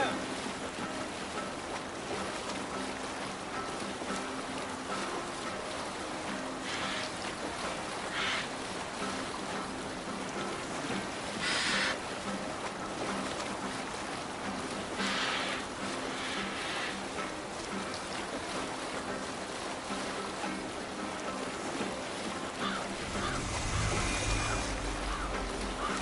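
A Viking longship sails the open sea in Assassin's Creed Valhalla, with steady wash of waves and wind, occasional louder splashes, and faint crew voices beneath.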